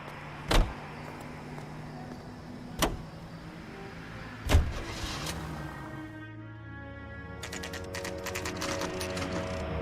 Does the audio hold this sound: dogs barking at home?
no